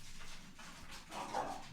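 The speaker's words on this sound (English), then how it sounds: "my dog's fighting with the cat" A dog yips and barks in short, faint bursts while fighting with a cat, heard at a distance indoors with no talking.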